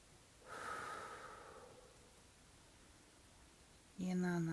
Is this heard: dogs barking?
no